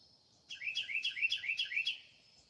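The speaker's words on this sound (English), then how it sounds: "That's a bird. A female cardinal." A female cardinal sings a clear run of about eight quick, bright chirped notes in steady rhythm, close and alone over a quiet background, lasting around one and a half seconds.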